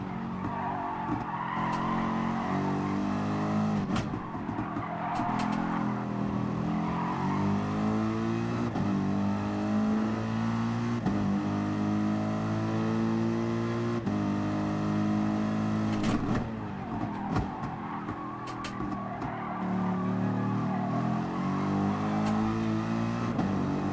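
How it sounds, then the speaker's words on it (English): Race car engine in Gran Turismo Sport revving hard through gear changes and braking, with steady loud engine drone, rising and falling pitch sweeps and bursts of tire skid noise throughout. "Rev out a little bit here now."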